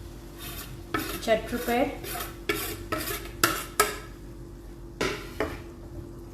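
A spoon stirring lactose-free milk and shredded cheese in a pan, producing a run of scraping, swishing strokes with clinks against the metal over a low simmering hiss, close and moderately loud.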